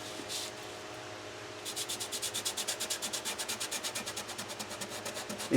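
A finger rubs chalk on paper inside a sunflower shape, starting after a quiet moment as a steady run of quick, close, even strokes that keep going to the end.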